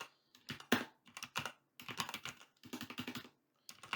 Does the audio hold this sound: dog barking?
no